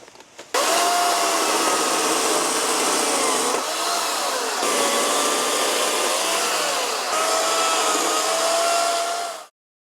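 A chainsaw with a dull chain grinds into hard old wood stumps, roaring loudly and steadily for about nine seconds, its pitch sagging and recovering as it bogs down in the cut before cutting off abruptly.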